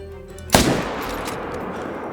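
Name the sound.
gunshot at a bear in the Call of the Wild video game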